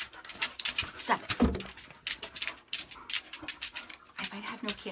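Two pet dogs at home pant rapidly and whimper in short bursts, fairly close, while someone briefly speaks over them.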